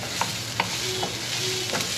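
Ground beef and taco seasoning sizzle steadily in a pan with a few sharp scrapes of a utensil stirring, close and continuous, with no talking.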